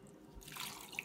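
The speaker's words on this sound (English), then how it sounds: "Then you're gonna add the water." About a cup and a half of water pours into a pot holding cabbage pieces, a short, soft splashing and trickle that starts partway through and ends with a small drip.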